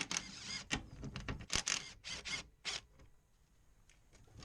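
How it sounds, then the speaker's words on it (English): Impact gun with a 14mm socket zipping off coilover top mount nuts on a Nissan S14 200SX Kouki Silvia, several short loud rattling bursts close by, then quiet. "impact gun does speed up any of these sorts of jobs really, rather than having to just crack them off with a ratchet every time"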